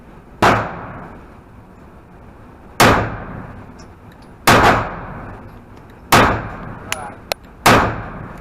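Five loud, sharp shots from an M&P 9 Shield Plus pistol firing PMC 115 grain jacketed hollow points at a range, spaced a couple of seconds apart with brief ringing tails and a few faint clicks between them.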